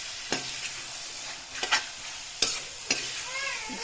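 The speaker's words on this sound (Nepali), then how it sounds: "यसमा चाहिँ मैले टमाटर प्याज लगाएर एकछिन चलाएर छोपिदिने हो।" Tomato and onion fry in a pan with a soft continuous sizzle, broken by several sharp scraping clinks of a utensil stirring, close and without talk.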